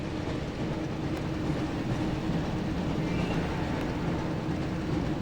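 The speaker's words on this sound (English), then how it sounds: "Looks like we found the train" Steady low rumble of a train in the Harry Potter and the Chamber of Secrets PS1 video game, a continuous rolling drone with faint rattling that holds even and loud for the whole stretch, with no voices.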